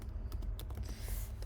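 Typing on a computer keyboard while laying out text in InDesign, a short run of quick, close, uneven key clicks over a low background hum, with no talking.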